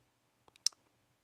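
A computer mouse clicks once in a quiet room, a faint, sharp little tick with a couple of tiny softer taps around it.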